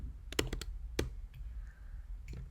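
Ctrl or Cmd and Delete pressed on a computer keyboard give a few sharp, close key clicks, two of them distinct, in a quiet room.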